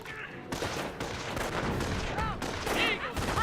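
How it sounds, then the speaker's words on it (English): A captured MG42 machine gun fires steadily in a Company of Heroes battle, its rapid bursts layered with other gunfire and explosions, loud and unbroken, with short game unit voices cutting in. "MG42 captured there, firing away,"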